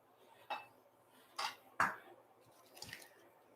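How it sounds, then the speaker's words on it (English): A knife roughly chopping fresh spinach on a cutting board, giving a few distinct, well-spaced moist chops and thuds, close and fairly quiet against near silence. "I'm very, very roughly chopping."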